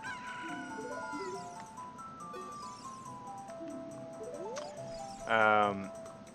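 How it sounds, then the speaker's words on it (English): In a video game, a rooster crows to wake a sleeping character, ending in one loud, close crow over game music and chiming effects while people talk. "The chicken should wake him up!"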